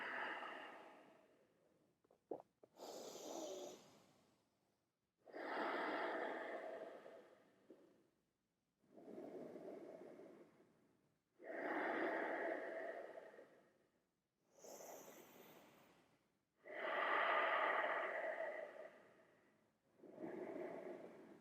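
Slow, deep breathing through a yoga stretch in a vinyasa practice, with long inhales and exhales in a steady rhythm of about seven breaths, close and clearly audible with quiet gaps between them.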